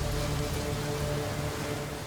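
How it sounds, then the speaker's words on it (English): Heavy, steady rain in a documentary about the Battle of the Wabash, a dense even hiss of falling water with low rumble beneath, continuous and loud with no voices. "It rains constantly."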